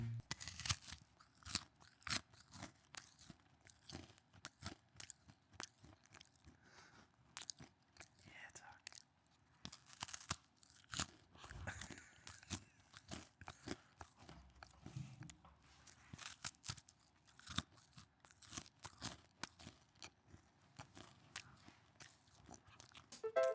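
Children crunching and chewing chocolate-coated rice cakes, with close, crisp bites and chewing in irregular bursts throughout, spread across a quiet room.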